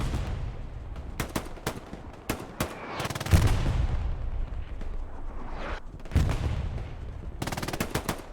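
Loud machine gun fire in a competitive multiplayer match, with repeated rapid bursts and rattling volleys, scattered heavier booms, and continuous battle noise throughout.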